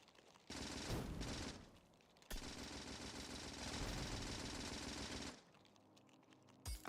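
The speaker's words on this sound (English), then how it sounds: "Even bullets don't really work all that well on the rocks." Gunfire from the video game Factorio strikes rocks in rapid automatic bursts, loud and close, with a short burst, a brief gap, then a longer sustained stream before it cuts off.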